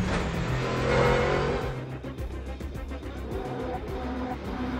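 Onboard a GT race car at Spa-Francorchamps during qualifying for the 6 Hours of Spa endurance race, the engine roaring loud and steady with a brief swell, then a rougher, pulsing drone as the car continues at speed.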